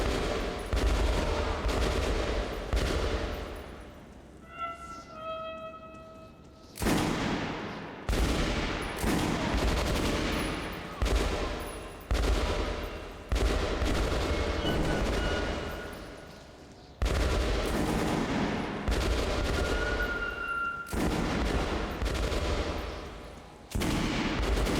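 Gunfire from the video game Metro Last Light rattles in dense, repeated bursts of shots and volleys, loud and sustained, with a few brief lulls between firefights.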